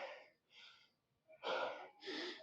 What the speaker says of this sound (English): 3 sets in, I'm already breathing hard.